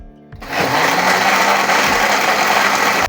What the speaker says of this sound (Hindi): बस इसको ढक के ना चॉपर चला देना है